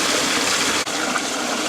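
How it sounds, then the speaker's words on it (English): Water gushes steadily and loudly out of a home-made pond filter drain, a continuous close rushing flush with one brief dip partway through. "so now it's shooting water out along the bottom and around, and that'll flush that stuff out of my drain"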